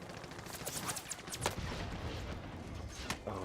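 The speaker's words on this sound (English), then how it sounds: "Oh my god, they almost shot me out of the air." Bursts of gunfire in the Warzone battle royale video game on Rebirth Island, several sharp cracks and a rattling volley over a noisy mix, moderately close with some distant pops.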